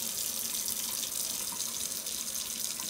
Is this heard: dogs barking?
no